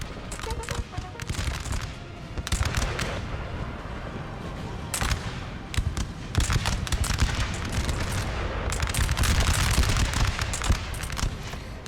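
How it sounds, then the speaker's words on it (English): Artillery and musket fire pound a building during a Napoleon: Total War battle, a dense, continuous fusillade of overlapping shots and booms with sharper volleys cracking through at intervals. "They've got artillery peppering the building as well."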